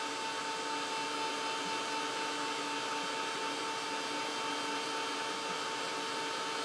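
Hair dryer blowing to dry paint on a playing-card trivet, a steady loud whirring hum with constant airflow, alone throughout.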